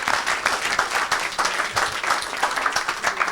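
An audience at a church service applauds and cheers, with steady loud clapping from a crowd across the whole moment and no speech over it.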